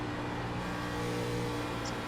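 A race car in the iRacing sim racing game drones at steady high revs, a continuous engine hum that holds at constant loudness without a break.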